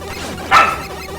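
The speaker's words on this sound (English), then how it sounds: "Luna puppy. She just yapped for no reason." A puppy named Luna gives a single short, sharp yap partway through, fairly close and clear over a steady low background hum.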